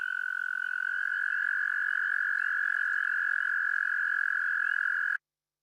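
Sustained single-pitched trill of an American toad, loud and near, running continuously before cutting off abruptly at the end, with faint background frog chatter and no speech.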